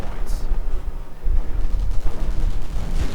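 Dense, loud battle gunfire in the Company of Heroes strategy game, an anti-tank gun firing at a Panther tank amid flamethrower fire, with rolling explosions and rapid shots under continuous low rumble.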